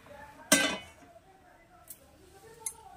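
A metal lid comes off a pot of steamed pitha dough in a home kitchen, then a bowl and plate are set aside: one sharp, close clink followed by two lighter taps, with a faint room hum between them.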